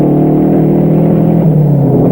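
Racing cars from the 1959 French Grand Prix roar away at the start, including a Cooper Climax and a Ferrari, in a loud, continuous, close engine rumble with no voices.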